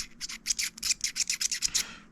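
A DD Hi-Fi 1/4-inch to 3.5mm headphone adapter being unscrewed by hand, giving a close, quiet run of about a dozen quick rubbing, scratchy thread clicks in an even rhythm.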